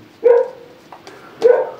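A young female setter puppy, about six months old, gives two short, fairly close barks about a second apart, with a faint yelp between them.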